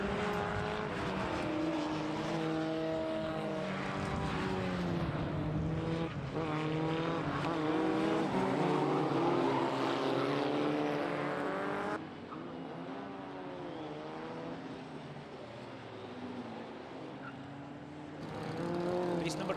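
Formula 4 single-seater race cars competing in the Scottish Championship at Knockhill, with loud, continuous engine drone and shifting revving pitches as the pack runs, while a commentator talks over it throughout.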